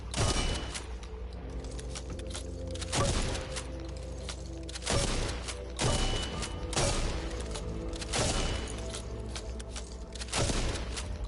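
TAC three-shot shotgun firing in the zombie shooter Back 4 Blood, heavy booming blasts spaced about a second or two apart over a constant loud game backdrop.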